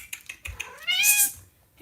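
A pet cat lets out a single rising-and-falling meow up close, preceded by a few light clicks and taps.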